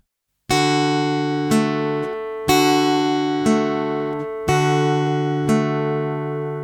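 A left-handed guitarist plays The First Noel exercise very slowly in 3/4 time: six clean plucked notes, each ringing out about a second apart and fading before the next, clear and close with nothing else heard.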